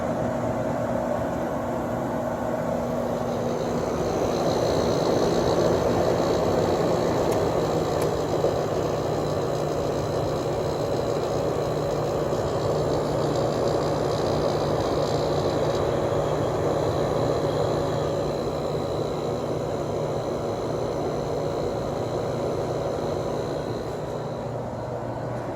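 Steady drone of a running air conditioner compressor with a Samsung fan motor, a constant low hum and airy whir holding even and close for the whole stretch, no talking.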